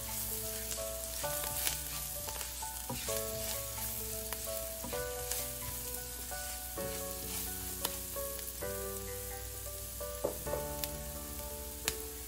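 Turmeric and Kashmiri red chili powder fry in hot oil with a steady, dense sizzle while a utensil scrapes and stirs the pan in repeated strokes throughout, with no voices.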